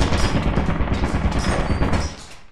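Automated turret in the video game Lethal Company firing a sustained, loud, rattling burst of rapid gunfire that fills the clip before tailing off.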